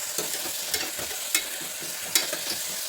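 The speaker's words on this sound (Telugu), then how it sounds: "ఇప్పుడు దీంట్లోకి అల్లం వెల్లుల్లి పేస్ట్ వేస్తున్నా." Ginger garlic paste frying in a pan for chicken curry, giving a steady hiss broken by several sharp stirring scrapes at irregular intervals.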